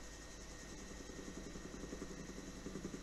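A helicopter in flight on a low-ceiling day drones with a steady, faint low engine and rotor hum, unbroken and even throughout.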